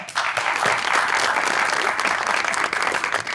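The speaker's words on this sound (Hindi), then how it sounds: "तालियां।" Studio audience applause at a televised Eid special talk show, dense sustained clapping from a crowd that swells quickly and holds loud with slight fluctuations before easing near the end.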